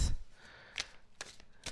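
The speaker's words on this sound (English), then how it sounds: "Just give me another second to give them a quick shuffle." A deck of cards gets a quick shuffle, with a few brief riffling bursts separated by short quiet gaps, close and fairly soft.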